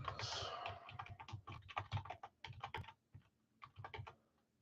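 Rapid, irregular clatter of keys on a computer keyboard, close and quiet, with short pauses between bursts of typing, no voices.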